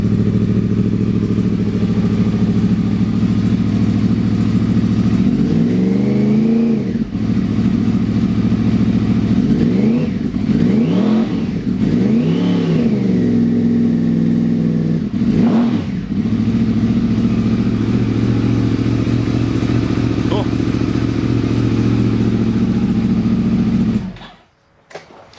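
Motorcycle engine idling with a freshly repacked exhaust holds a loud, steady low rumble, broken by several quick throttle blips that rise and fall, then cuts off abruptly near the end.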